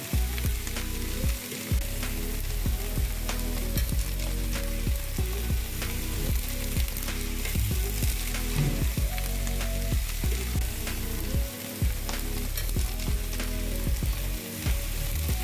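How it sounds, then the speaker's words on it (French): Omelette sizzles loudly in a pan for cantonese fried rice, with repeated rhythmic scraping and chopping strokes from a plastic spatula cutting it, continuous frying hiss throughout and no voices. "Je fais de la place pour faire mon omelette, que je coupe directement avec une spatule en plastique."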